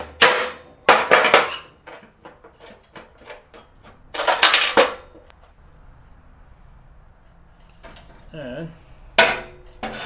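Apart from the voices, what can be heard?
hammering a pulley shaft out of mower bearings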